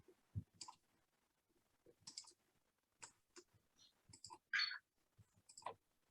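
Sharp, quiet mouse clicks come in small irregular clusters while worksheets in a spreadsheet are unhidden one at a time, close and isolated against near silence.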